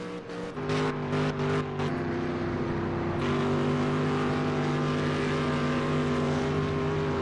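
Race cars circling the Spa track, a steady loud engine drone with sustained tones shifting as gears change, close and continuous without any voices.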